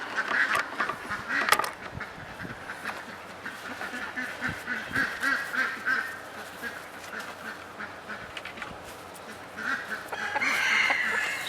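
A pet hen named Henny Penny, one who always wants to stay out, clucks and squawks nearby in a steady, busy stream of fowl calls with small sharp bursts, loud throughout with no talk.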